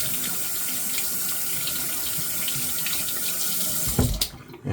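Tap water running steadily into a sink to wet a green shaving brush, a close, continuous splashing rush that cuts off abruptly near the end after a brief clatter.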